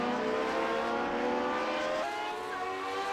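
Classic Lotus Grand Prix race car at Monza roaring loud and steady down the front straight, a sustained high engine note with a sharp gear change partway through.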